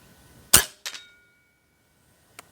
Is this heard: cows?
no